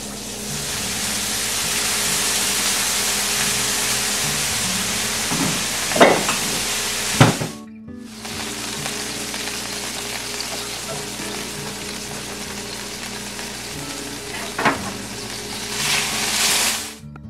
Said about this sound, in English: I'm gonna deglaze my pan with a touch of champagne vinegar.